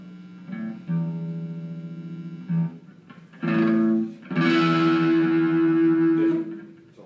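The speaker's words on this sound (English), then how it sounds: "let's overdrive here" Electric guitar run through a small overdrive box, sustained distorted notes and chords ringing out loud and close, with brief pauses between phrases and a longer buzzing held chord near the end.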